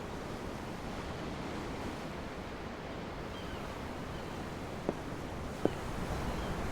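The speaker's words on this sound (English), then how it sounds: "The ocean? Yeah. The waves." Ocean waves from aboard a ship in the video game Tales of Arise, a steady, even wash of surf noise with two faint brief clicks near the end.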